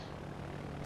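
Propeller aircraft engine drone from a World of Warships carrier plane making a strike run, a steady, dense low roar that holds at constant loudness with no talk over it.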